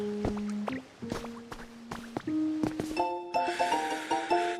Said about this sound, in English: It's water.